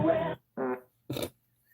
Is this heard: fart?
yes